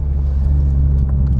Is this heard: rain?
no